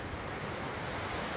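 A river rushes in a steady broadband wash, constant and fairly loud, with a breezy outdoor hiss and no voices.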